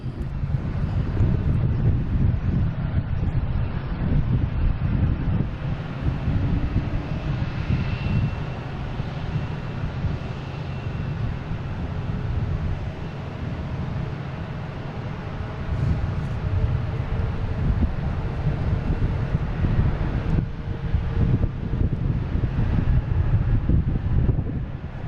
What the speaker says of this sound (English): The wind's picking up all of a sudden here too.